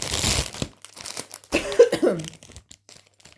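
Plastic packaging of an embroidery kit torn and crumpled open: loud, close crinkling and ripping bursts in two main spells with a brief pause between, followed by softer rustling.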